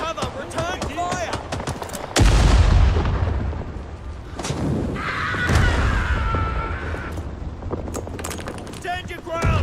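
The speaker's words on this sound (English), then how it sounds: "Kill them, but stay in cover. Return fire." Gunfire and heavy booms from a Rising Storm battle, with sharp shots throughout, a loud blast near the two-second mark and sustained firing after it, while voices shout over the fighting.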